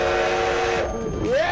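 A steam locomotive whistle blows steadily over a dense rumble of steam and machinery, with a rising tone sliding upward near the end, loud and close with no voices over it.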